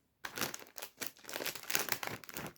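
A plastic bag from a chili-and-lime snack toy box is handled up close, crinkling and rustling in quick irregular bursts for a couple of seconds, with no voices.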